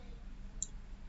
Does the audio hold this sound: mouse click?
yes